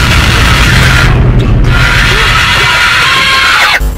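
A fake Bella creature in a horror video game lets out a loud, harsh scream that fills the short stretch almost without a break, with rumbling game noise beneath it.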